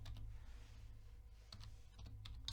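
Close computer keyboard typing while a CSS filename is entered, a few quick clusters of clicky keystrokes spread over a couple of seconds with a low background hum and no talk.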